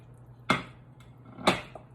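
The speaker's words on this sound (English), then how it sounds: "Now let's add our meatballs." Meatballs dropped into a pot of boiling Italian wedding soup: two distinct close splashy plops about a second apart, then a softer third one, over a quiet simmering background with no talking.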